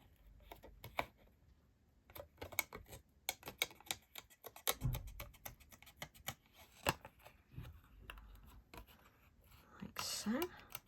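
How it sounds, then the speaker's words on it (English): Scissors snipping through paper craft designs in a craft room, a run of small crisp cuts and paper rustles up close, with soft murmured speech under them. "So we're going to just cut out our designs."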